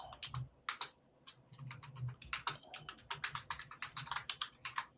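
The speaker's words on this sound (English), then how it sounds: "I think Vicky's typing something currently" Someone typing on a computer keyboard during an online tabletop role-playing one-shot, bursts of quick close clicks with short pauses between runs of keystrokes.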